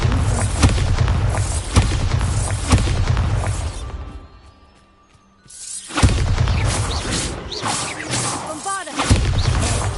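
A Bombarda spell blast in the Hogwarts Legacy video game: loud booming explosions with crashing debris and whooshes, a brief quiet gap, then another heavy burst of rumbling impacts.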